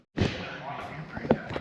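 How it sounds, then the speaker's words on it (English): Door of a 4BT Cummins-powered Ford Bronco opening, a sudden thud followed by a rattling latch and a second sharper knock, close up, with voices nearby. "Let me open this door up."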